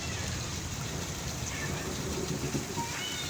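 Torrential rain pours steadily in Mandi Bahauddin, Pakistan, a dense, even wash of water noise close by with a low rumbling undertone and no clear voices.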